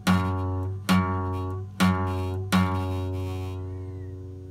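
A single plucked guitar string fretted with the finger too far from the fret edge, struck four times in a steady rhythm, each note ringing with a slightly buzzy, sustained tone that fades between strikes; close and alone.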